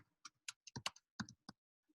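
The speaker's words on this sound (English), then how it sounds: "In the chat box, I'm typing it to everybody" Typing on a computer keyboard into a chat box, a quick uneven run of about ten crisp, close key clicks over two seconds in an otherwise quiet room.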